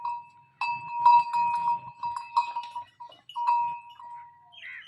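A bell hung around the neck of a Nili buffalo on a Punjab dairy farm rings with a bright, sustained metallic tone, struck repeatedly in uneven clusters close by, with faint animal shuffling beneath.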